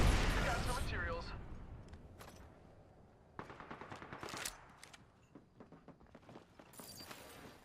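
Gunfire in the battle royale shooter Apex Legends: a loud opening shot and echo, then bursts of rapid automatic fire in the middle and end, with a voice speaking in game over the action.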